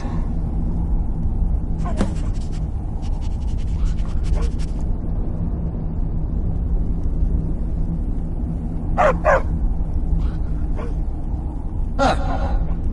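Barbas, the talking dog in the video game Skyrim, gives a few sharp barks and yips, spaced apart over a low continuous background hum, with brief voice-like sounds mixed in.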